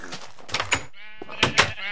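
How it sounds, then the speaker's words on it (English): Sheep penned in a Minecraft world bleat in short, close, repeated calls, mixed with soft thuds and scuffling game sounds. "You can see these sheep are constantly trying to escape."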